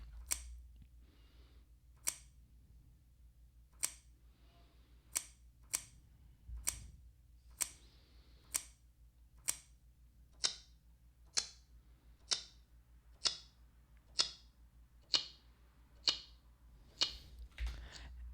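A processed recording of a breaking branch repeats as a sharp, regular tick about once a second, steady and clock-like against a low hum.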